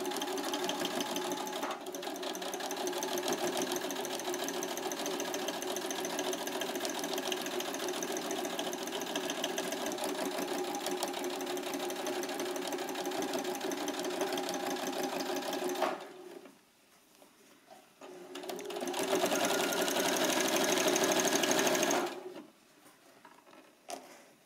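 Sewing machine stitching a zipper onto the left front of a puffer jacket at 1 cm from the edge, a long continuous close whir followed by two shorter runs with brief stops.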